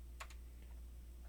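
A couple of quick keystrokes on a computer keyboard, a short burst of clicks followed by a few faint taps over a low steady hum.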